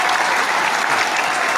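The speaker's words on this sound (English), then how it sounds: "And the crowd goes wild." A crowd claps and cheers in a dense, continuous burst of applause that fills the whole moment, loud and unbroken.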